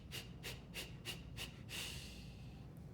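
Series of five short, sharp rhythmic breath puffs from a vocal-health breathing exercise, followed by one longer, steady exhale that trails off, close and breathy with no talk.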